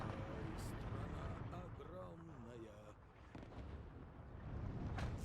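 Units firing in the Steel Division 2 wartime strategy game, with booming artillery-like blasts and rumbling gunfire spread through the passage, mixed with background battle noise.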